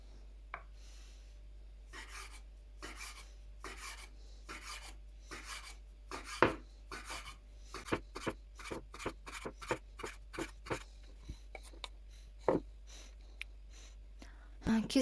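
Knife cutting soft dough into small baursak pieces, a steady series of short scraping strokes against a board, close and fairly quiet, with soft speech heard over it.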